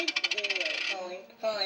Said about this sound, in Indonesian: Dan terus kita masukin uangnya, misalnya koin di sini ya